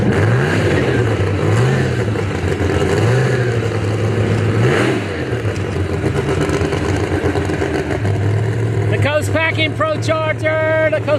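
A Pro Mod drag car with a ProCharger supercharger revs at a motorsports park, engine rising and falling in repeated pulls under a steady loud roar, with voices talking over it.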